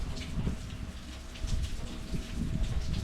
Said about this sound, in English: Rain wetting up my seeds, guys.